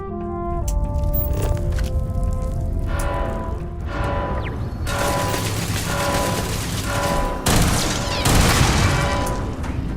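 Gunfire in the space game Starfield: loud, dense bursts of shots and booming impacts over a mechanical, whirring game soundscape, with a sharp burst near the end.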